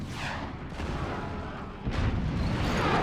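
Cannons fire in the strategy game Forts, with rapid booming shots rolling into one another under a dense rumble that grows heavier and louder partway through.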